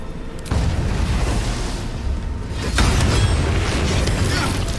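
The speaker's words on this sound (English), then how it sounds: "let's try and do Booming Blade" The Booming Blade spell in the Baldur's Gate 3 video game lands with a sudden low boom, and about two seconds later a second, louder burst follows with a rumbling, crackling tail.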